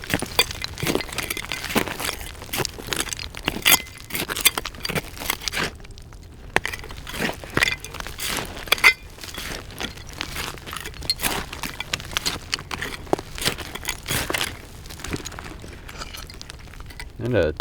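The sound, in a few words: old glass bottles clinking while being dug out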